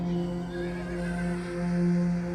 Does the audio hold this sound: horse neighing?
yes